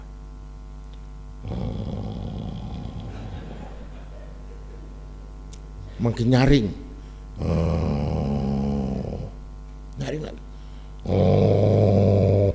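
A voice imitates a tiger's growl in a few low, rasping, snore-like bursts spread between ordinary speech, close and fairly loud.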